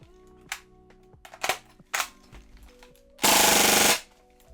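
Gas-powered airsoft MP5 submachine gun, a few single sharp shots followed by one rapid full-auto burst lasting under a second, loud and close against a faint background hum.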